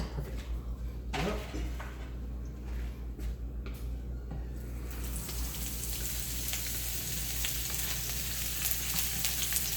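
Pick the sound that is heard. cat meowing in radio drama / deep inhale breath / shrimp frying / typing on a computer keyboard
shrimp frying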